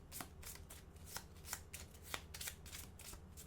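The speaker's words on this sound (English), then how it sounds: "we're going to shuffle the rest of these cards" A deck of cards is shuffled over and over in quick, crisp riffling bursts, close and fairly quiet, during a tabletop game session.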